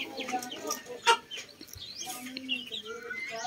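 Young unvaccinated chicks and chickens cluck and peep steadily close by, with one louder squawk early on and no talking over them.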